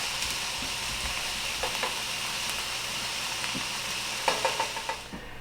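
Shrimp sizzle steadily in a hot pan for pineapple shrimp fried rice, with a continuous frying hiss and scattered scraping clicks from stirring, the last few louder near the end before the sizzle drops off.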